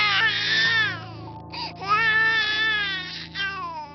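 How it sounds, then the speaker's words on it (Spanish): An infant wails loudly and steadily at close range, with breathy catches and a brief pause near the middle before the crying resumes, set in the midnight scene of a horror tale. "a la medianoche, escuchó el llanto de un bebé."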